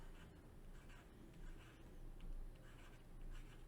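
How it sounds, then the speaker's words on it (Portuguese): A pen scratches out numbers by hand on paper in short, quiet strokes with brief pauses, close by and faint, with no voices. "Então, vou só escrever aqui embaixo."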